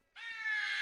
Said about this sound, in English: That crow had red eyes.